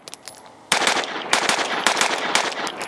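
A ported 2011 Atlas EOS pistol fires a string of sharp, loud shots after a brief quiet start, with fast, evenly spaced reports close by and no talking.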